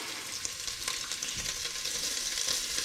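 Crumbled chorizo sizzles and fries in a hot pan, a steady close crackling hiss with small bursts of spitting fat and no voices.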